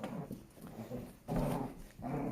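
Hardy the puppy tugs at the end of a robe and growls in low, rumbling bursts at close range. The growls come in uneven pulses, and nobody speaks.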